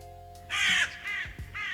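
Crow Mauler from the game Fear and Hunger caws in two short, rough bursts, loud and close over a low steady drone.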